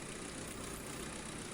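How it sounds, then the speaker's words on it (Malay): A Proton Persona car engine idling after a valve cover gasket replacement, a steady low hum and faint mechanical whir holding an even level throughout, fairly quiet and close with no voices. "enjin hidup"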